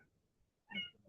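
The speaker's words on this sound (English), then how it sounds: "I have little kittens going on here." One short, faint kitten meow, high and thin, rises near the end of an otherwise quiet room.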